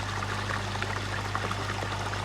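Water in a koi pond filter chamber bubbles and churns steadily, a dense continuous gurgling wash with a low mechanical hum underneath, close and unbroken.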